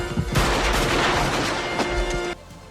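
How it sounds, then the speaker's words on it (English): Gunfire in a shootout scene from the film Die Hard, a loud dense burst of shots and booming blasts lasting about two seconds before cutting off abruptly. "more shootout occurs"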